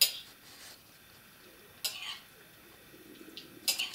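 Eggs beaten with a fork or whisk in a bowl for breaded Niçoise-style lamb cutlets, a few quick scraping, clinking bursts separated by quieter pauses.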